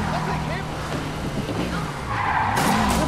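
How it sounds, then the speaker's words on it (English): Car chase from the Spider-Man PS4 video game, with engines roaring and tires skidding and squealing under a steady, loud mix, while game voices and music play over the action. "Yeah, that's a high-speed car chase, all right."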